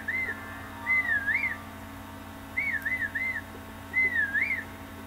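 A melodic whistle repeats in three short gliding phrases with pauses between them, over a steady low hum of background music from the game Zelda: Breath of the Wild, with no talking.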